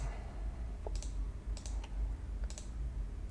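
A computer mouse clicking: a few sharp, faint clicks, some in quick pairs, over a low steady room hum with no talking.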